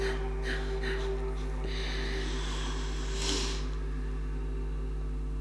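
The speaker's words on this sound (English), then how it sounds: "take a slow deep breath in" A slow, deep inhalation during a guided breathing exercise, one long soft airy breath drawn in over several seconds against a low steady hum.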